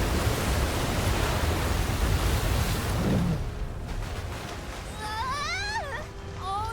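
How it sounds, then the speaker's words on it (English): A wall of waves crashing at sea in Visions of Mana, a loud broadband roar of rushing water for about three seconds that then eases into a softer wash while a high voice cries out. "Is he trying to bust through the wall of waves with brute force?"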